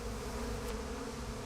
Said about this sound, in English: Want me to kill those bees?